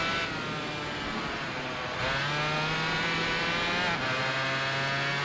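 A Yamaha TZR 250 SPR two-stroke racing motorcycle in the Tourist Trophy video game, its engine a loud, continuous high-pitched wail that shifts pitch at gear changes, close and without pause.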